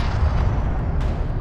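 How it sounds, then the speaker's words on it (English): Hostile railguns fire in the desert strategy game Homeworld: Deserts of Kharak, heard as a continuous loud, low rumbling blast with a sharp crack near the one-second mark. "Hostile railguns have opened up."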